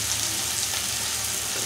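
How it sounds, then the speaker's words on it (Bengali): Spice paste of chili, turmeric and cumin and coriander powders with salt frying in a pan, a constant dense sizzle that holds steady and fairly loud throughout, with no talking. "ভালো করে মশলাটা কষিয়ে নেব"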